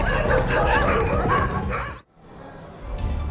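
A pack of stray dogs barking and yelping in a dense overlapping chorus, loud and close, cutting off abruptly partway through before fainter noise resumes.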